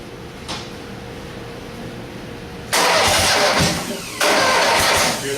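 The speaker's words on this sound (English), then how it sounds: "You'll know it instantly when you try to start it. It'll sound like the battery's dead." Engine cranked with a weak battery: after a quiet hum and a brief knock, a loud, labored cranking grinds for about a second and a half, pauses briefly, then cranks again, close and harsh.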